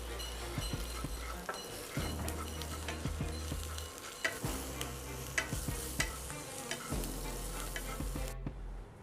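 Curry leaves and capsicum sizzle steadily in a pan, with repeated scraping and stirring clicks from a spatula over the continuous frying hiss.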